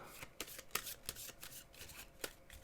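A deck of cards for the Star Wars The Clone Wars board game is shuffled close up: a rapid series of crisp riffling snaps and flicks in irregular bursts, with no talk.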